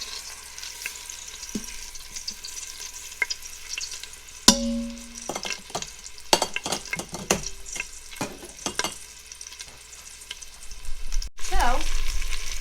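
Pork chops browning in an Instant Pot give a steady low sizzle, broken by clustered clinks and scrapes of a utensil against the pot, with a louder shuffle near the end.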